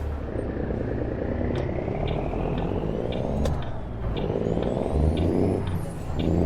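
A truck in American Truck Simulator drives without a trailer, its engine droning steadily with rising and falling revs and a whirring pitch that climbs, loud and continuous.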